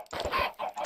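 A short cluck-like bird call from a chicken cooker area in the blocky game EdgeCraft, a brief two-part sound close and fairly clear with no talking.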